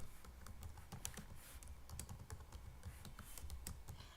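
Fingers typing code on a computer keyboard, a fast irregular patter of soft clicks and key taps, close and faint, without speech.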